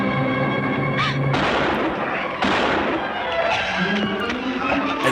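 Gunshots are fired at a creature in a 1958 horror film, several sharp loud reports spaced through the scene with dramatic music and voices underneath.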